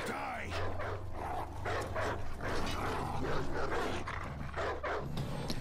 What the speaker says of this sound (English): Can't fight in your own battles, so you're sending in dogs.